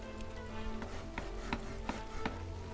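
Repeated chopping of trees in the strategy game Against the Storm, a string of sharp, evenly spaced thwacks over a busy game ambience, moderately loud.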